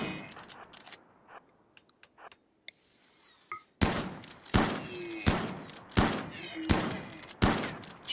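Shotgun blasts in the RimWorld video game, a series of about six loud, evenly spaced booming shots following a quieter stretch of scattered small clicks and thuds.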